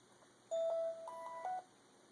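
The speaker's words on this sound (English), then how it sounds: "my phone's going off" A mobile phone gives a brief electronic notification chime of a few clear tones in quick succession, heard close and alone against a quiet background.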